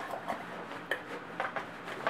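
A GSI cup is packed into a compact camping cook set, giving a series of light metallic clinks and knocks, several distinct taps spaced irregularly, close and moderately quiet.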